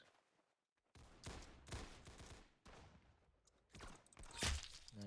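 Rapid bursts of gunfire from the Roblox game Arsenal, several close, loud volleys and single shots following one another with short gaps, with no speech.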